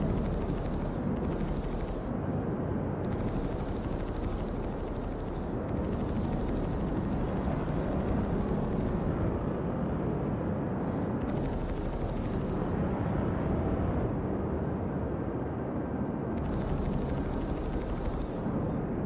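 Gunfire in the Star Citizen game, a dense, sustained barrage of rapid automatic shots and heavy booms that keeps rolling without pause, loud and close throughout.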